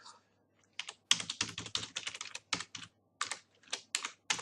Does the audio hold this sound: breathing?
no